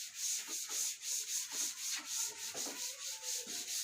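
Someone rubs a board to erase it, a rapid rhythmic scrubbing of about fourteen even strokes, close by and steady, with no talking.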